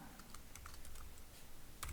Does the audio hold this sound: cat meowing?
no